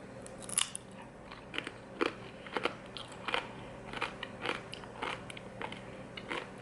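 Someone bites into homemade air fryer tortilla chips, giving a string of sharp close crunches and crackly chewing spaced a beat apart, quiet and with no talking.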